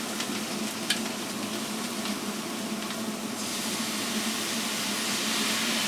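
Food frying in a pan in an evening kitchen while white pepper and soy sauce are stirred in, a steady close sizzle with occasional scraping stir sounds, growing slightly hissier toward the end, no talk.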